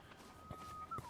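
Chickens in the video game Tears of the Kingdom give a few short clucks close by, with a brief higher squawk near the end, set against a steady low game ambience.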